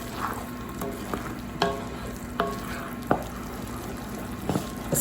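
Caramel cake icing gets beaten with a wooden spoon, a series of sharp knocks and scrapes at an uneven rhythm over a constant low hiss, close and without talking.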